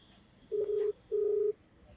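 A telephone call being placed to a man named Rishabh: two steady, even electronic beeps in a row, each about half a second long, clear and alone.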